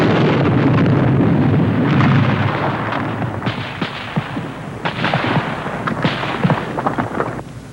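Gunfire in a war battle scene: sharp, repeated shots crack over a loud rumbling background, and the firing thins out toward the end.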